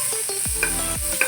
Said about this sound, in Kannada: ಎಲ್ಲದನ್ನು ನೀಟಾಗಿ ಫ್ರೈ ಮಾಡ್ಕೊಳ್ಳಿ.